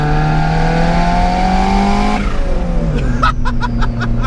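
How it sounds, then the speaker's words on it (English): A budget turbocharged Honda Civic engine revs hard with a steady, loud drone that shifts pitch as boost builds, then drops into a lower tone while rapid rhythmic pulses and whooshing turbo sounds come through up close. "The Civic's finally boosting as it properly should."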